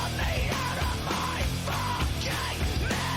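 A male rock vocalist screams loudly and raggedly in a song, a sustained harsh vocal over dense, loud rock instrumentation throughout.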